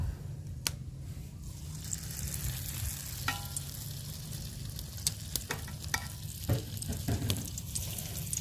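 Turon, banana spring rolls, frying in cooking oil make a faint, steady sizzle with a few scattered pops and crackles.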